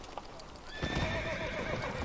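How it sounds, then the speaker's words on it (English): A horse gallops with close, rapid drumming hooves that swell in loudness, and a high whinny rises over the hoofbeats. "The mount catches signal at once, its pace quickening until it surges into a gallop."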